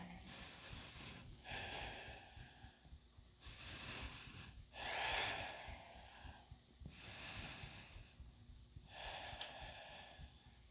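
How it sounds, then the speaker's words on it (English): Slow, deliberate breaths during a yoga class, a broad airy inhale-exhale cycle repeating about every two seconds, with one louder rushing exhale near the middle, close and fairly quiet with no talking. "Breathe."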